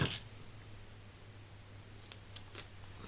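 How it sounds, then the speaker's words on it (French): Small scissors snip through two layers of paper for a handmade card, a few quick crisp cuts near the close, near and clear against a quiet room hum. "On va faire le petit ciseau pour couper, c'est plus pratique que le grand."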